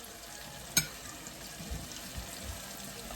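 Goat meat browning in hot oil for Caribbean curry goat, a faint steady sizzle and crackle with one sharp clink of a utensil early on and soft stirring bumps after.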